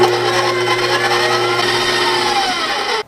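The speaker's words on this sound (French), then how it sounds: "Et puis, je vais brasser encore." Cake batter with vanilla for a keto, gluten-free pound cake being beaten by an electric mixer, a loud, steady whirring drone that runs continuously and then cuts off abruptly near the end.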